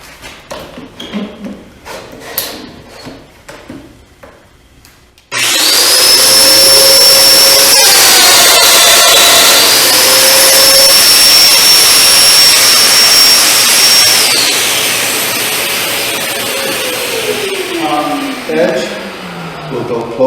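A Festool Domino joiner plunges through the face of a wooden drawer part, starting abruptly with a loud, steady high-pitched motor whine and cutting roar that holds for about ten seconds before winding down.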